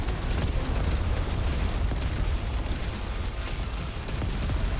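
Unbroken weapon fire from Yet Another Zombie Survivors roars as a dense, loud, continuous wall of noise with no pauses or reloads, steady throughout.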